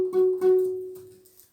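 A guitar chord is strummed twice with the high E string dulled by a finger touching it, so the notes sound short and damped and fade out over about a second, heard alone.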